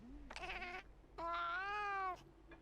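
A house cat lets out two close, clear meows, a short one followed by a longer drawn-out cry, with quiet room tone in between.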